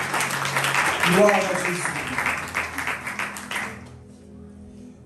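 A church congregation applauding, a dense patter of many hands clapping together with a voice speaking over it. The clapping stays loud for several seconds, then fades and stops, leaving near silence.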